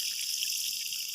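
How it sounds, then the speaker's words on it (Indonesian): Water poured steadily over a newly planted durian seedling, a soft continuous wash of splashing liquid with no pauses, close and even in level. "Kita siram secukupnya ya airnya"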